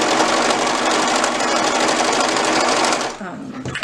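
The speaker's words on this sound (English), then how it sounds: "And I'm serging this together with gray thread." A serger overlock machine sews fabric with gray thread, a loud, dense mechanical whir running steadily up close before slowing and stopping near the end.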